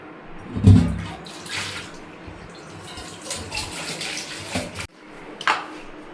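Tap water runs steadily over sea fish as it is rinsed clean by hand, a continuous splashing flow with a brief louder gush near the start and a sharp cut-off before a short final trickle.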